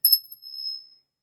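Small bell rung once, a bright high metallic ding with a short shimmering decay fading over about a second, alone and clear.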